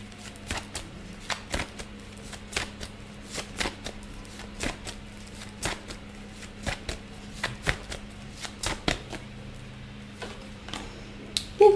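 Close hand shuffling of a tarot deck, a regular series of sharp card flicks and riffles at a moderate level with no voice over them.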